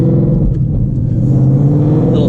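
A car engine rolling along in second gear gives a steady, low, menacing rumble with a constant droning tone, close and fairly loud throughout.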